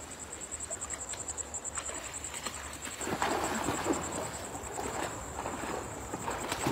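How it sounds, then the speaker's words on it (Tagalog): Flying insects buzz and drone steadily outdoors by the water during hand fishing, with a constant high whine over a rough, noisy background that swells louder halfway through. "Marami po yung lumilipad na insects."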